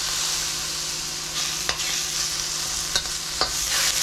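Shrimp sizzle and fry in a hot pan for a Pad Thai, with steady bright crackling throughout and a few sharp clacks of a utensil stirring and scraping the pan, no talking.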